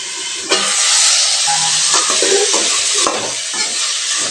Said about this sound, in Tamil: இப்போ மட்டன் அரைக்கலாம் சேர்த்திக்கலாங்க. இது ஒரு 5 நிமிஷம் நல்லா வதங்கி வரட்டுங்க.